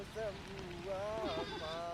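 Sheep and goats bleat close by, a few wavering cries sounding over steady low rumble and faint background voices, in a hillside herding setting.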